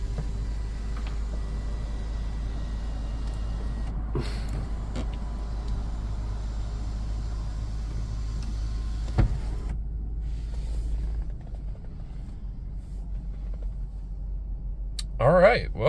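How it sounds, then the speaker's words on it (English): An electric sunroof on a 100 series vehicle tilts down and then slides open, its motor whirring steadily under a low cabin hum, with a brief mechanical clunk near the end and no talk. "Sunroof is tilted up. We're going to tilt it down and then one touch it open."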